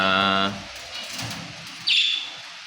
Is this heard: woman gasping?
no